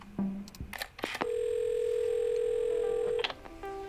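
Telephone in the video game Assemble with Care: a few quick dial clicks and beeps, then a long steady ringback tone held for about two seconds before it cuts off, followed by quieter tones.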